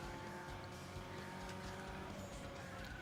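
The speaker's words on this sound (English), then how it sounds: "Oh, it's a drift." A car drifting in Need for Speed Underground 2, a continuous engine roar with a thin tire squeal running through it, steady and fairly quiet throughout.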